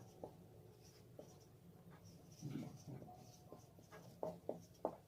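Pen writing on paper during a class 6 algebra lesson, quiet scratchy strokes with several short sharp taps and scrapes near the end, close and faint against a low room hum.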